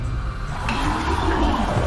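Rushing, surging water in a video game, as a big water sword bursts out of river waves; a steady broadband wash like a toilet flush, continuous and fairly loud across the whole moment.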